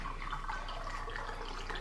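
White distilled vinegar pours from a big jug into a container, a soft steady trickle and splash of liquid, faint and without speech.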